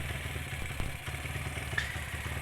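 A Honda Tiger motorcycle with a freshly replaced starter cable and battery cable idles close by, its engine putting out a steady low putter with light mechanical clatter.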